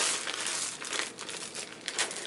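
Plastic bag wrapping around wooden-look game cubes for Arena for the Gods crinkles and rustles continuously at close range, with quick irregular crackles throughout.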